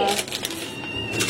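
Pet cats meow and cry noisily near feeding time, overlapping calls close by under a voice talking.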